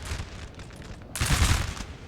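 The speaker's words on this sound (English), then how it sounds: "getting some nice little volleys in there" Musket volleys crackle through a Napoleon Total War battle at Fuentes de Oñoro, 1811: a steady rattle of scattered shots, then a louder, denser burst of massed fire rolling in about halfway through.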